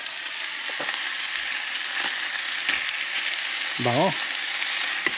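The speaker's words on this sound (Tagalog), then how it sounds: "Yung ulam na lang yung niluluto ko." A Filipino ulam dish sizzles and fries in a pan at a rural farm campsite, a steady close hiss with occasional clinks of utensils and a brief spoken word.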